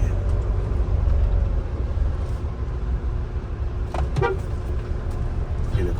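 Mahindra Thar 2.2 litre climbing a slope in second gear, its engine a steady low drone throughout with road noise, a brief horn-like toot near the middle, and someone talking over it.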